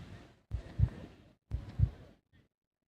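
A heartbeat sound effect plays during a cricket match review, with two deep, thudding double beats about a second apart, low and muffled, ending in silence.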